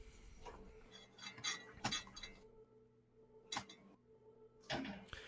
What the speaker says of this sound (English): You notice that the glass is starting to crack all the way up the top.